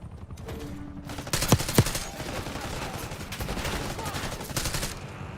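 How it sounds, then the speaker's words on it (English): Gunfire in the Black Ops 6 video game, dense bursts of shots and rattling automatic fire mixed with game noise, close and fairly loud, with no talking. "We're all shooting at each other."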